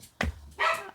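Siberian Huskies bark twice in quick succession, two sharp, fairly close yelps less than a second apart, with no voices over them.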